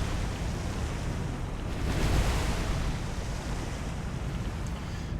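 Ocean waves wash around a struggling ship in War on the Sea, a dense continuous roar of surf and wind, swelling briefly midway, with no voices.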